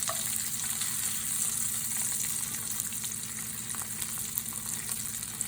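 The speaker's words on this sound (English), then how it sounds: "now I want to focus on browning the onions" Onions sizzling as they brown in a pan for liver and onions, a steady dense hiss and crackle, close and loud with no talk.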